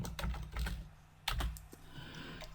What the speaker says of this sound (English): type in your text.